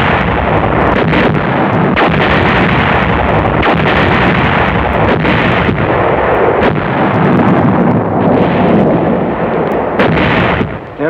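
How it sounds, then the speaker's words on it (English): Heavy artillery fire pounds down on a position during the Battle of the Bulge, a loud, relentless barrage of booming blasts and explosions overlapping into a dense roar, with wind buffeting the microphone. "call down artillery fire on our own position"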